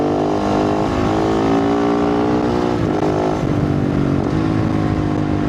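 A dirt bike fitted with a 51T rear sprocket rides through the desert, its engine droning loud and steady close by, with slight rises and dips in revs throughout and no talk.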